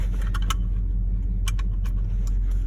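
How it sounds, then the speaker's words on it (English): Seatbelt latching inside a lifted truck cab, a few light metallic clicks and buckle rattles over a steady low engine rumble. "I'm gonna go and put on my seatbelt"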